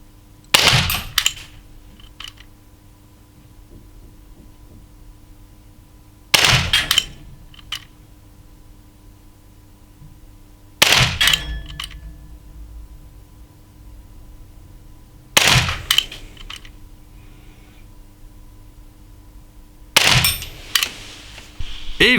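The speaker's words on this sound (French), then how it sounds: "C'est parti pour le tir de précision à 9 mètres." Five separate shots from a Glock 19X Umarex 4.5 mm blowback air pistol during 9-metre precision shooting, each a sharp crack with a short rattle, spaced several seconds apart in a quiet room.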